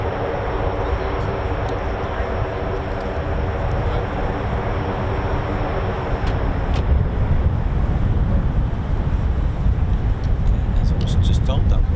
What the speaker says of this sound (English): that was an engine run from the MC-130J